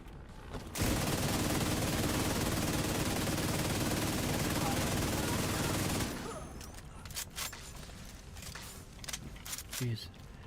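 Rapid, dense video game gunfire pours out in one loud continuous burst lasting several seconds, then stops abruptly and gives way to scattered lighter clicks and thuds.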